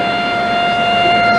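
A siren at the La Prensa Gráfica newspaper building wails in a steady, loud, sustained tone, with a faint rumble underneath.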